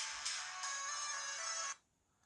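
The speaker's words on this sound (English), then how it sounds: "So now my watch is going off," Ringtone of an incoming test call sounding on a Razer Phone 2 and a Samsung Galaxy Gear S3 Frontier watch, a bright steady electronic melody that plays for under two seconds and then cuts off abruptly.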